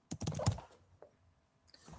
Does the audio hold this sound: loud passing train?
no